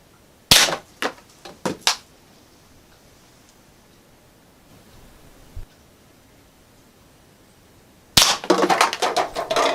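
An Umarex Browning Buck Mark replica airgun fires at a used, still-filled K Cup: a few sharp, close snapping shots early on, a quiet pause with one faint tap, then a dense burst of loud cracks and clatter.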